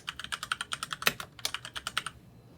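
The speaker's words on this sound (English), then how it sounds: "I type into the notes field lowered power" Rapid keystrokes on a computer keyboard at a college radio station's logging terminal, about twenty close, crisp clicks in a steady, slightly uneven rhythm, with no talking.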